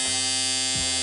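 A Surker electric shaver switches on and runs with a loud, steady, close buzz that dips briefly near the end.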